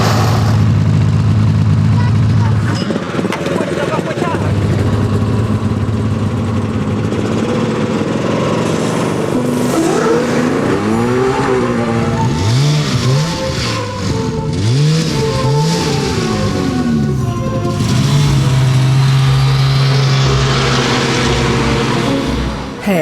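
A car engine rises and falls in pitch as it revs while driving, loud and close through most of the stretch, with brief voices from passengers in the car.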